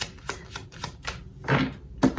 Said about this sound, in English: I'm just shuffling all the cards so we get a nice fresh stack